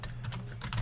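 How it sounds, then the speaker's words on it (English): Keys clack on a slightly yellowed, decades-old Commodore VIC-20 computer as a very basic program is typed in, a short run of close, distinct keystrokes. "This is me typing a very basic program"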